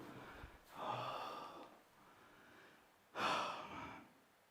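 Heavy breathing from a 74 kg powerlifter after a set in competition training: two loud, breathy exhalations, the second sharper and stronger, close to the listener and separated by quiet panting.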